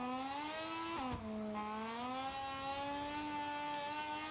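A motorcycle engine in the racing game MotoGP 25 whines steadily under engine braking, its pitch dipping sharply once and then settling into a smooth, continuous drone with no talk.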